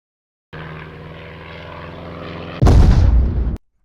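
A propeller airplane engine drones steadily, then a sudden loud roaring burst like a crash impact takes over for about a second before cutting off.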